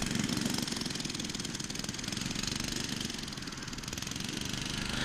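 Manco Dingo Deuce go-kart engine running steadily with a rough, buzzing small-engine drone, moderately distant and continuous, no voices over it.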